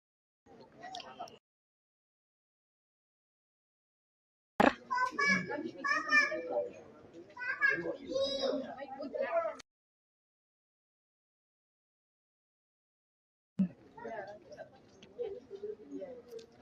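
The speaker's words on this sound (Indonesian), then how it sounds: "masih bisa kita dengar pilunya tangisan dari ayahanda" A grieving father wails and sobs in an autopsy room, his cries coming in strained bursts: a short outburst, a long stretch of heaving sobs, then more after a silence.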